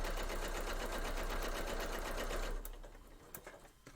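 A sewing machine runs fast over a quilt seam line on a Christmas tree skirt, a loud, close, steady whirring stitch for over two seconds. Then it stops, and a few clicks and small handling noises follow.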